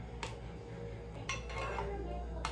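Dishes and cutlery clink softly while tea with onions, garlic, honey, lemon and brown sugar is made, giving a few faint, sparse chinks over a low steady background hum.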